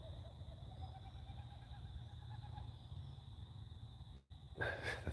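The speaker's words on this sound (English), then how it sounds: "sorry, that bird." An owl-like bird hoots and calls in a steady low, throaty pattern for several seconds, then a sharper, brighter burst of sound follows after a brief dropout.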